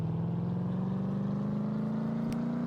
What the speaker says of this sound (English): Let's do a test run with this new engine.